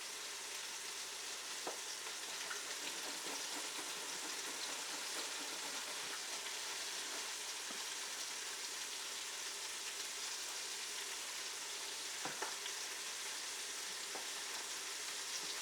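Eggplant slices fry in an oil bath for a low-carb eggplant parmesan, giving a steady, moderately quiet crackling sizzle with a few faint clicks and taps and no voices.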